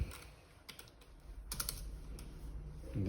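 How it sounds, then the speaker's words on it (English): Typing on a computer keyboard during vet ultrasound file handling, a brisk run of close, light key clicks in an uneven rhythm with a few louder taps, over low room hum. "and then type it in"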